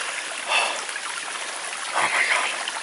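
Flowing stream water on the Appalachian Trail between Betty Creek Gap and Hot Springs, North Carolina, makes a steady broadband rush, close and continuous, swelling briefly twice, with no talk.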